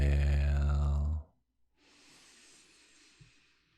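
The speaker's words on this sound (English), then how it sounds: "Inhale." A slow, soft inhale in a calm box-breathing exercise, an airy hiss lasting a couple of seconds, close and quiet, following a sustained hummed or voiced tone.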